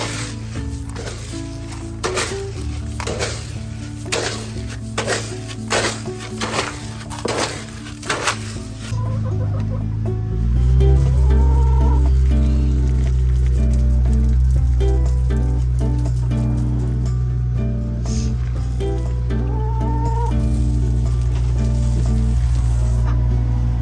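Chicken feed is stirred in a container with a run of rhythmic rattling scoops, then settles into a continuous gritty rustling and shifting of grain, close by and fairly loud.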